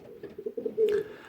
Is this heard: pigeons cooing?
yes